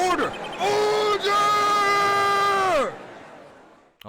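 Courtroom crowd uproar from the Phoenix Wright: Ace Attorney video game: a loud, sustained burst of murmuring, shouting crowd voices, briefly breaking once, then cutting off to near silence.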